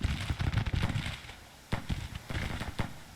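Artillery guns firing in the Grand Tactician strategy game: repeated booming blasts and crackling reports, some spread out and others rapid, loud and close throughout.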